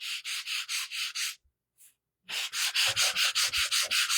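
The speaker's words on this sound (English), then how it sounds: "And we're going to sand this down." Hand sanding of a wooden door hanger in a steady back-and-forth rhythm of rasping strokes, close and loud, broken by a short pause before the strokes resume.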